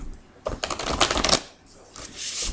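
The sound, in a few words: shuffling tarot cards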